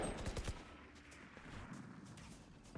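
Bulldog rifle gunfire in the video game Valorant: a short flurry of sharp shots at the start, trailing into a busy, noisy background, fairly faint overall, with only a little speech.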